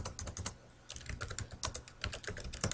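Quick, light clicks of a computer keyboard being typed on, close and fairly quiet, in uneven bursts with short pauses and no talking.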